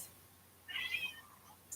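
A pet cat indoors during a home yoga class lets out a single faint, short meow midway through a quiet room with low background hum.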